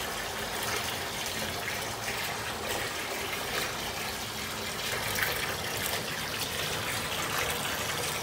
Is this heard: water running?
yes